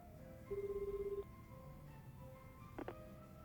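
A mobile phone rings in the Like a Dragon: Infinite Wealth video game, a short burst of regular electronic beeps followed by a couple of brief chimes over a low steady hum.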